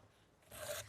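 A knife slices through raw lotus root on a board, one short crisp rasping cut that swells briefly and fades, close and quiet.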